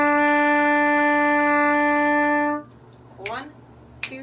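A wind instrument holds a steady, loud single note E for about two and a half seconds in a music lesson, then stops, leaving quiet room noise with a couple of brief rustles.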